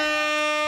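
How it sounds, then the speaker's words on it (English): A loud, sustained blast of an air horn sound effect during a Call of Duty podcast stream, one short continuous tone with strong harmonics. "Gonna wear out the air horn."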